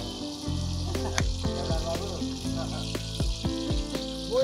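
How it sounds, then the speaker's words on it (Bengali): Chicken roast for a village wedding feast frying in a pan and slowly stirred, a steady sizzle with scraping strokes of the spoon and faint background noise. "এবার আস্তে আস্তে করে উনি এগুলোকে একটু নেড়েচেড়ে দিচ্ছেন।"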